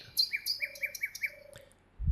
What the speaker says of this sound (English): P for parrot, kids, P for a red parrot